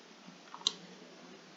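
Two sharp, faint clicks from a computer keyboard or mouse during spreadsheet work, spaced about a second apart over a quiet background.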